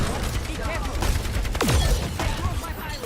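Explosive weapon fire from Junkrat in the video game Overwatch, a dense barrage of booming shots and blasts with a whistling projectile sweep, loud and continuous throughout a busy match mix.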